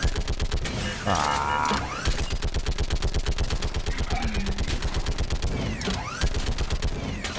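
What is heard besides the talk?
gunfire from a mounted gun in Mass Effect 3 video game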